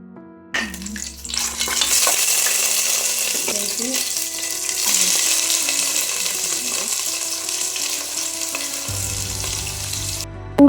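Spices, onion and curry leaves fry in oil for a chicken dum biryani, a loud, continuous close sizzle with stirring clatter and scraping throughout, and no voices over it.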